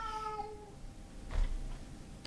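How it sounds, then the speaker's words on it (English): A cat's meow rings out near and fairly clear at the start, with harmonic tones gliding down, then a faint rustle and soft thump follow in a quiet room, with no talking. "that's two of my cats now."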